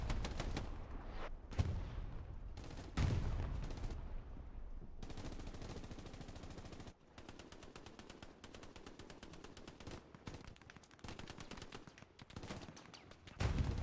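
Gunfire in the World War II shooter game Hell Let Loose, including an MP40 submachine gun, dense rapid automatic bursts, some near and loud, others more distant, continuing nearly throughout with brief pauses.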